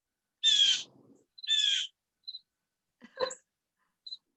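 Outdoor birds calling: a few short, sharp harsh cries spaced apart, then a brief chattering call and a faint chirp, fairly clear against quiet surroundings.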